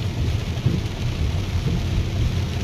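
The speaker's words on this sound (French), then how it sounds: "on vient de se prendre un orage" Heavy rain pours steadily through a summer thunderstorm in the Rhône-Alpes region, with deep rumbling thunder rolling underneath the broadband wash of rain. The sound is continuous and loud, with no voices.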